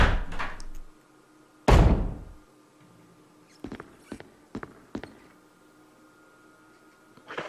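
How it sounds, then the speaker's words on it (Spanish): Door opening in Resident Evil HD Remaster: a heavy thud near the start, a loud slam-like boom, then several sharp wooden knocks and clunks spaced apart over a quiet background, no talking. "abrimos una puerta"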